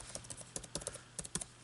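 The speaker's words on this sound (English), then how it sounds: "very soft touch kind of keyboard here" Soft-touch keys being typed on a Lenovo Legion Y540 gaming laptop with a backlit keyboard, a quick uneven run of light clicks close up with no talking.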